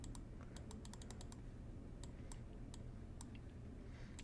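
A few sharp computer keyboard clicks, shift keys being pressed, scattered in short bursts over a steady low background hum, close and fairly quiet.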